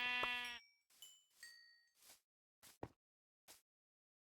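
A Minecraft sheep lets out one short, clear bleat, followed by a series of quiet, brief game blips and pops spaced across a silent background.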